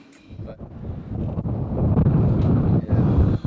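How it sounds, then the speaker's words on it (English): Strong gusts buffet the microphone outdoors at an ecovillage, a loud, rough, continuous roar that swells and dips over a few seconds. "This is what the wind does here."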